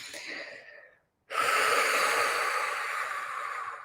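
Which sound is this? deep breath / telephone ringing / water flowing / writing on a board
deep breath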